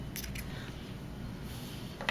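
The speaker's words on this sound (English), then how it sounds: "for the sleeves, all you wanna do is cut off the hem." Fabric scissors snip through the hem of a T-shirt sleeve, a few quick crisp cuts near the start and another at the end over a low, steady room hum.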